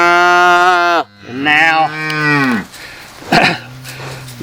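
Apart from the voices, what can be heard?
cattle mooing during ear tattooing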